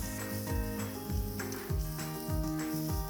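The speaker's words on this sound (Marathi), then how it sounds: "इथे आता 2 मोठे कांदे मी बारीक चिरून घेतलेले आहेत. मिक्स करूया." Finely chopped onions frying with cumin seeds in a pan, a continuous sizzle with rhythmic scraping strokes roughly every half second as a spoon stirs the mix, close and moderately loud, no voices.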